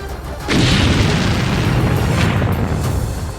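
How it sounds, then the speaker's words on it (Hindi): A loud explosion from an Israeli strike in Lebanon erupts with a sudden deep boom, followed by a sustained heavy roar and rumble that continues for several seconds. "इजरायल की ओर से जारी किए गए वीडियो में दिखा कि एकदम शांत पड़े एक इलाके में अचानक जोरदार धमाका हो गया।"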